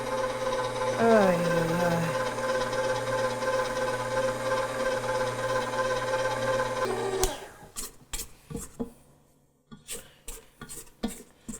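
A KitchenAid 5-quart bowl-lift professional stand mixer runs on speed 2, mixing flour, salt and softened butter with a steady mechanical whir. The motor then stops and leaves a series of short knocks and clatters.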